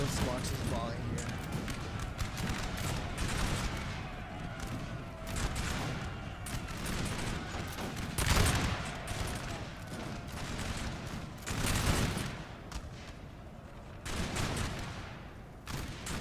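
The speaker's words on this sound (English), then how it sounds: "At this point, they kind of opened fire, so let's watch this volley here." Repeated musket volleys from massed line infantry in a Napoleon: Total War battle in Spain, bursts of crackling gunfire rising and falling over sixteen seconds beneath a steady battlefield din, with someone talking over the action.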